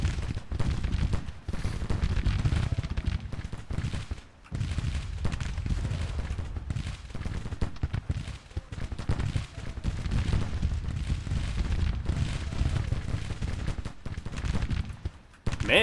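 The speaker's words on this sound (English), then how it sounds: "Man, they emptied their 6 shots pretty quickly there." Dense, continuous musket volleys crackle through a Civil War battle in Grand Tactician: The Civil War, with overlapping rifle fire rolling at a steady loud level for the whole stretch and only brief dips between bursts.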